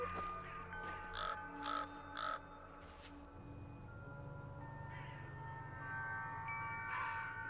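A bird caws a few times in a video game, sharp calls at the start followed by more calls later over a low droning game background.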